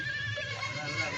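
A goat on a goat farm gives a single drawn-out bleat, close and fairly loud, over a low background murmur.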